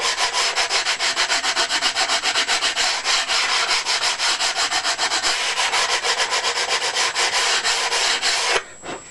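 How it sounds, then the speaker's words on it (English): Steady back-and-forth sanding scrapes across the wooden fuselage of a Sopwith Pup scale model, a close, rhythmic rubbing that runs continuously before stopping abruptly. "I might give it a little bit more of a sand actually at an angle"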